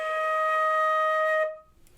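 A flute holds a single E flat, clear and steady, for about a second and a half and then stops. The tone is close and even, with no talking over it.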